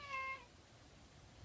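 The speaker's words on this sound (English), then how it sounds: "The cat just wants to check that I've not gone stir crazy." A cat named Darcy gives a single clear meow near the start, close and fairly loud, then fades into quiet room tone.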